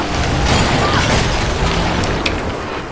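Rapid magical skill burst from a Virtuoso in Guild Wars 2, a dense wash of overlapping booms and bursting impacts that stays loud and sustained throughout, with a few sharper pops near the end.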